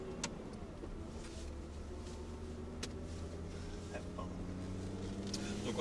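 A Lamborghini sports car, rear-wheel drive, pulls along steadily in second gear, its engine a continuous low drone with road and cabin noise, heard from inside and building slightly toward the end.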